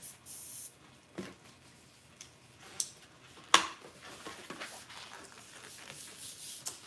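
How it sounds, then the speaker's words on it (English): A hand pump used for balloon art releases air in soft hisses and puffs, with a sharper burst midway, quiet and close, among light handling rustles. "I just gave it 4 pumps, release some air."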